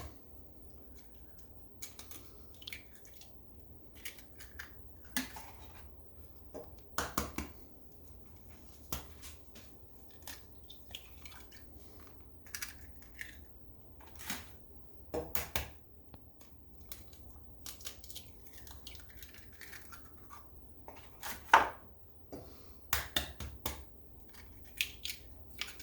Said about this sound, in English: You crack those on the counter, Miss Glow, don't you? Instead of the side of the bowl.